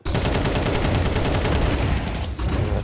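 Rapid automatic AK-47 fire in a Counter-Strike match, a loud sustained burst of closely spaced shots with a brief break near the end, no talking.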